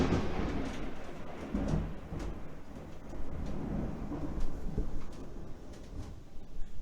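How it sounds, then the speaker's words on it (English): Thunder from a thunderstorm rumbles low and steady, a faint, distant rolling roar with a few soft swells, heard alone with no voices. "Big thunder."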